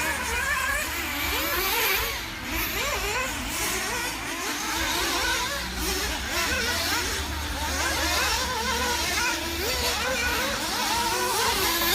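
Race cars lapping a short track during a race, a continuous dense roar of several engines revving and droning past, loud and steady with a faint announcer voice under it.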